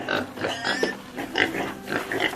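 A pig grunts and snorts repeatedly in short, irregular bursts, fairly close.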